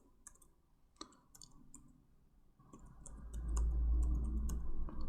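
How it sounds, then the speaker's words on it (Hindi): Computer mouse clicks sound while a new file is created: scattered sharp, faint clicks close by, with a low rumble rising toward the end. "तो टेम्पलेट्स पे मैं राइट क्लिक करता हूँ और न्यू पे क्लिक करता हूँ"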